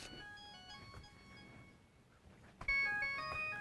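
A cell phone rings with a faint electronic melody of steady tones, then swells louder near the end, with no talking.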